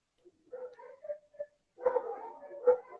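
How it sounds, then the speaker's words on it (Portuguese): The speaker's dogs let out a string of short whimpers and yips, then break into louder overlapping barks and whines, fairly close in an otherwise quiet room. "Bota os meus cães, espetacularmente, a estragar-me isto"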